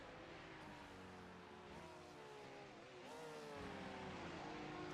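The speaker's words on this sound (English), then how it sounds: "Someone furiously downshifting into that roller coaster 5, 6, 7." Race car in an iRacing GT3 event at Barber Motorsports Park, its engine note stepping through quick downshifts with falling then rising pitch, steady and moderately loud.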